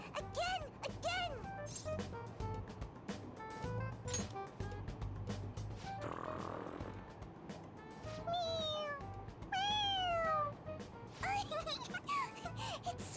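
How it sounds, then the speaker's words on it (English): Toy cat in Persona 5 Royal meowing repeatedly when its head is pressed, several bright meows scattered among excited voices talking over it. "It meows when you press on its head."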